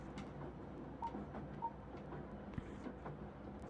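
A faint train rolls through a VR world, a low rumble with soft rhythmic clacks and a few light metallic ticks, quiet and steady with no voices.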